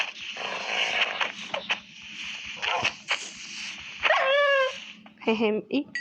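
Several short dog barks and yips from a game, mixed with other game sounds and voices, with a rapid cluster of barks near the end.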